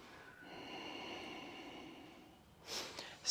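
A deep, slow inhale is drawn through the nose while holding a yoga lunge, a quiet, close breath that swells and then fades, followed by a short sharper exhale.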